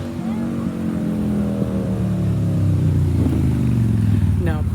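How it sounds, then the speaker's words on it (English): Cars driving into a park, a continuous loud engine drone with rising and falling tones as vehicles pass nearby, one after another, with a voice mixed in during a walk. "There's so many cars coming in."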